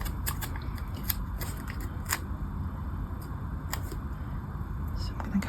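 Scissors snip repeatedly through paper, trimming the bottom off an autumn journal page, a series of close crisp cuts and crackles over a soft background.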